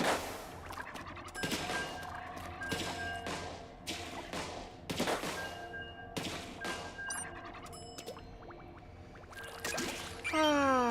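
Rapid ink weapon fire in Splatoon 3 crackles in irregular bursts of sharp splatting shots, mixed with bright game chimes and effects, steady and close throughout with no speech.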